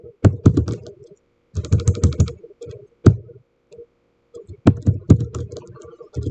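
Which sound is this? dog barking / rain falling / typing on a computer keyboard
typing on a computer keyboard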